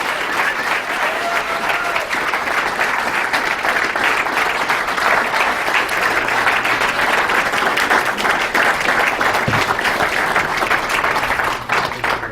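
An audience applauds as guests are welcomed onto a stage at a live event, producing dense, loud, sustained clapping that stays steady throughout with no pauses.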